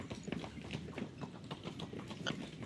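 Horses gallop through thick fog in a video game, with steady rhythmic hoofbeats pounding continuously at moderate distance under a faint ambient wash.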